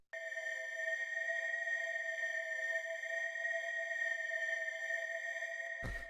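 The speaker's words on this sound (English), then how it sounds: "the first sound that we have here is this drone" Sustained FM synth drone built from four sine waves on the note E for a raw techno track: a steady, glassy held tone with bright overtones, unchanging and alone, cut off by a brief thump at the end.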